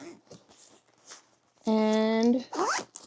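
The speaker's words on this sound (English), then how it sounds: "So we zip them up" Packing cubes for a trip are zipped closed with short, close rasping pulls, mixed with a sustained vocal tone and some soft handling noise.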